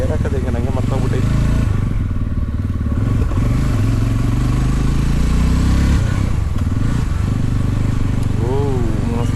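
A Jawa Yezdi Roadster motorcycle engine runs steadily and loudly up close, a continuous low rumble with brief clattery surges, while people talk over it at times.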